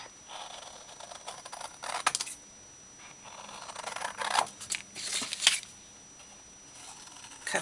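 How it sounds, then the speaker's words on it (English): Scissors snip through paper pieces for a paper accordion file folder craft, irregular crisp cuts and rustling paper up close, quiet between bursts, with no talk. "Cut these out quick."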